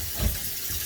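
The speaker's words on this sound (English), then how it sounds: "wash my hands, my brushes a little bit so they don't dry out" Running water from a tap while hands and makeup brushes are rinsed, a steady hiss throughout with a brief louder splash near the start.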